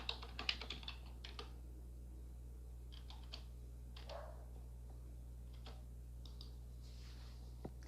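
A password goes in on a computer keyboard as a quick burst of close key clicks, then a few scattered taps spaced out over a quiet room hum.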